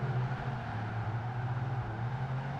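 Engine drone of a car racing in Project Gotham Racing 2, a steady tonal hum that holds and shifts slightly in pitch as the car drives smoothly through a corner, no talking.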